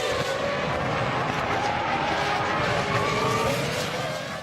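Michael Schumacher's Ferrari Formula 1 car leaves the pits in the 2001 season after a pit stop, a steady loud engine roar with some tire noise, constant and unbroken throughout.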